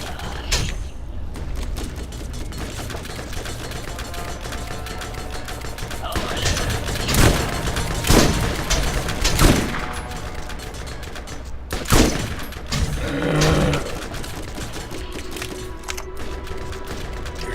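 Shotgun blasts in a video game, several loud sharp reports spaced a second or two apart, with mechanical clacks and creaks between them over a busy game background.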